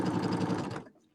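A home sewing machine runs in a quick, close, rhythmic whir, making tiny stitches for under a second before stopping abruptly, with no voices.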